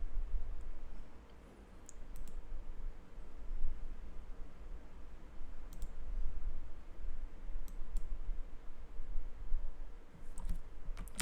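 A computer mouse clicks on the Microsoft Edge icon in the Windows taskbar, several sharp, quiet clicks spread out over a low steady background hum.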